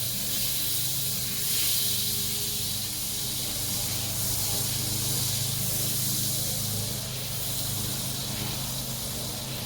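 Butter sizzles in a hot cast iron pan, a steady, bright hissing spatter that runs without a break, close and fairly loud, with a low hum underneath.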